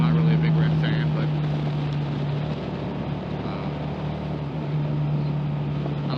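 A first-generation carbureted Suzuki SV650 with a rounded frame riding along, its steady engine drone holding an even pitch throughout with wind rush over the microphone, continuous and fairly loud.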